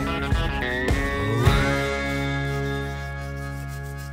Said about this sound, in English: I'm finding it's the only thing to get off this acrylic paint